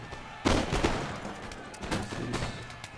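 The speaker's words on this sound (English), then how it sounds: "nice volleys from that light infantry" Light infantry musket volleys crackling across a Napoleon: Total War battle on a Spanish lakeside map, with a sharp burst of ragged gunfire followed by further scattered volleys over a steady background din.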